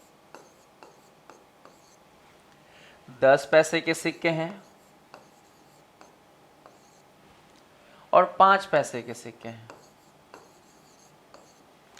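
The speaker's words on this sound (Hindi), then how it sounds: "सबसे पहले 25, 10, 5 हम यहाँ लिख रहे हैं" Numbers being written on a board, two distinct stretches of scratchy rhythmic marker or chalk strokes, close and clear, with someone speaking in between.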